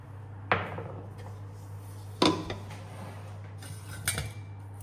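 A metal utensil stirring food in a pot after salt is added, three distinct clanks and scrapes against cookware over a steady low hum.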